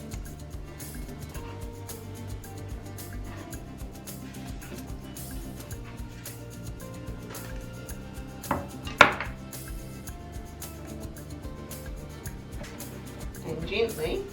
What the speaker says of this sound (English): I'm just going to use a spatula, fish slice, whatever you call it. And I'm going to chop this into about 4 lengths.